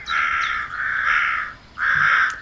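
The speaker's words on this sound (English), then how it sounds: "those are the calling birds" Crows caw in three harsh, drawn-out calls, loud and close, with a brief pause before the last.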